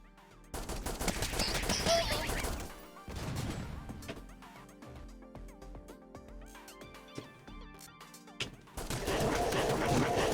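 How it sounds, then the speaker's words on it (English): Shooting with missiles firing in the video game Heroine Anthem Zero 2, dense rapid bursts of gunfire and crashing impacts that swell and fade amid busy game sounds. "As long as I'm shooting, the missiles will come out too."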